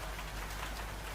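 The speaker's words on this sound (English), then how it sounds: "the rain continues softly in the background" Soft, steady rain falls on a surface at night, a gentle, even hiss with scattered drops, calm and continuous with no voices.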